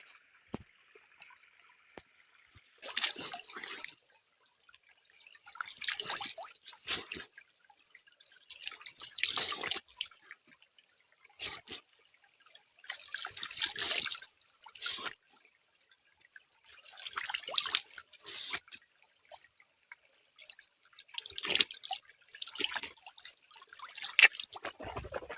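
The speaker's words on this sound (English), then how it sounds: "Let me wash my face." Splashing water from a drinking-water spring as someone washes their face outdoors, about eight separate bursts of splashing and dripping at a steady rhythm, close and fairly faint with quiet gaps in between.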